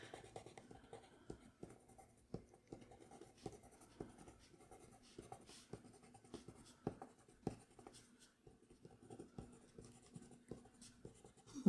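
A Derwent watercolor pencil drawing on paper makes soft, faint scratchy strokes in an irregular steady rhythm, close up in a quiet room.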